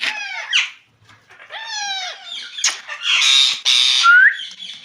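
Two pet parrots fighting, letting out harsh, repeated squawks and screeches in quick bursts, loud and close with short gaps between the cries.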